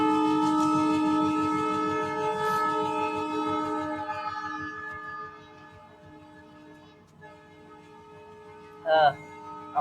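A passing train rumbles and clatters with sustained horn-like tones, loud at first and fading as it moves away, then a brief sharp burst near the end; no clear talk over it.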